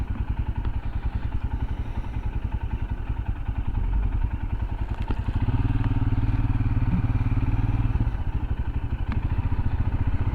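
A Royal Enfield Himalayan motorcycle riding through the French town of Châteaulin, its single-cylinder engine thumping steadily and loudly up close, rising in pitch midway as the throttle opens, with no talking.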